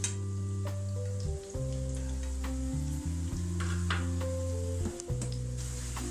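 Vegetable sooji wraps sizzling steadily in hot oil in a pan, a continuous close frying hiss with a low hum beneath and occasional small crackles and clinks.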